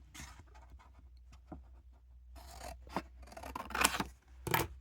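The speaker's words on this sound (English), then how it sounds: "I'm going to cut a couple cuts." Scissors cutting fabric for a doll's pilgrim hat, a series of close, crisp snips and rasping blade strokes, growing louder toward the end, with no talk.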